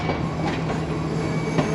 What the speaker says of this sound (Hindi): सरहारी रेलवे स्टेशन पहुंच रही है ट्रेन